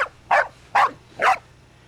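A dog barks three times in a steady rhythm, each bark sharp and close, with a low hum beneath and quiet gaps in between.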